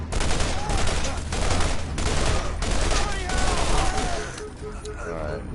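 Rapid pistol gunfire in the shooter game Borderlands, with repeated cracking shots in quick bursts over a constant roar of game noise and effects, loud and close throughout.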